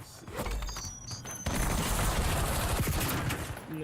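Rapid bursts of gunfire from the video game Call of Duty, dense automatic fire with repeated sharp shots, loud and close, continuing steadily for several seconds without speech.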